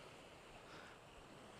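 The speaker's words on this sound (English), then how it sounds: "standing at the edge of the ocean" Ocean waves wash at the edge of Monterey Bay in Capitola at night, a soft continuous surf hiss with wind, faint and steady, no voices.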